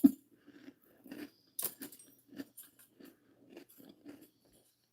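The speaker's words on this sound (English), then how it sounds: "I'm hungry if you hear me crunching on crackers." Someone crunches on crackers while eating, close up: a series of dry, crisp bites and chews in an irregular rhythm, with quiet gaps between them.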